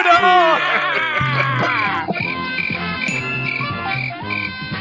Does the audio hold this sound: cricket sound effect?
yes